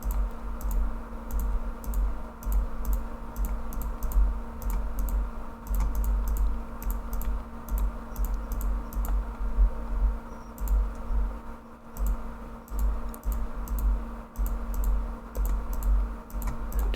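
Rapid mouse clicks and key taps at a computer while sharing quests in the online game LOTRO, a steady patter of close, light clicks over a constant low hum, with no voices.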